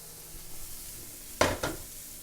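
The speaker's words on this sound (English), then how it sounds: "we're just going to stir fry it" Vegetables for beet-and-tofu fried rice stir-fried in a pan, with a quiet background sizzle and two short, loud bursts of sizzling as food is tossed or stirred near the end.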